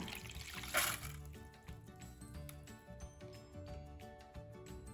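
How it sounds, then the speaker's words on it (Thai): Soaking water with water spinach seeds is tipped out of a plastic box, giving a quiet trickling pour with a brief splashy burst near the start over a low, steady background. "เทน้ำทิ้งได้เลยค่ะ"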